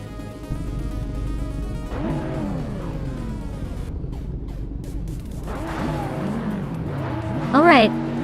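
Race cars, a 2009 Holden Commodore GTS leading the pack, roar around the Denver Pepsi Center track, engines rising and falling in pitch as they pass, with a brief tire squeal near the end and a voice talking over the noise.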